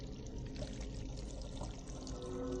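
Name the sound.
water poured out of a bucket, video game Still Life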